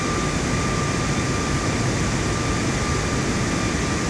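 Steady, loud roar of large airliner jet engines in Flight Simulator 2024, a dense unbroken broadband drone with a faint whine, continuous throughout with no pauses.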